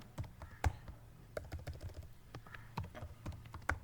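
Fingers tap out a steady, irregular run of quiet clicks on a computer keyboard while entering data in Excel, close and faint, with no talk.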